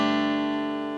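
A single sustained electric guitar note from a hammer-on to the second fret of the G string, ringing clearly with rich harmonics and slowly decaying, heard alone.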